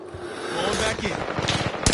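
Rapid machine-gun fire crackles steadily through a Call of Duty Warzone match, with dense bursts running throughout and a sharper burst near the end.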